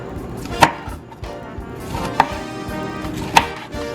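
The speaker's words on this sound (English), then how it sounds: "So here's a big thing of cabbage. Gonna shred that up" A very sharp knife cuts through a big head of cabbage on a board, three distinct loud chops spaced about a second and a half apart over a low, dull background.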